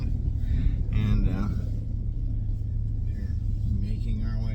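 A Power Wagon truck engine rumbles as it drives out across ice, a low steady drone with talking over it much of the time.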